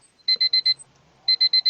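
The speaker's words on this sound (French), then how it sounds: "Le réveil." An alarm clock rings in two clear bursts of four sharp, high electronic beeps each, loud and close, separated by a short pause, with no voices over it.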